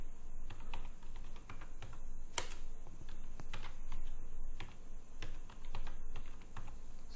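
Rapid keyboard typing runs steadily throughout as a new name is entered for an Excel sheet, with close, crisp clicks at an irregular rhythm and no voices.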